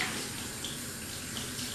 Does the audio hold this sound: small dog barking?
no